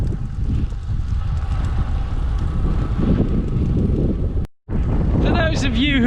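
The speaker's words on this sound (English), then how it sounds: "I keep telling myself this is a nice, cool, refreshing wind, not a headwind that I have to battle against all the way back home" A headwind buffets the microphone while cycling on a long ultra-distance ride, loud steady low rumbling gusts that cut out abruptly for a moment, then return with faint tonal sounds over the top.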